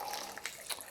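Hot water running from a kitchen tap, a steady close hiss of flowing water with slight splashy surges, heard alone.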